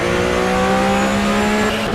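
Porsche Supercup race car at Kyalami rotating through a corner in lift-off oversteer, engine droning loud and steady with tire squeal blending into the continuous roar.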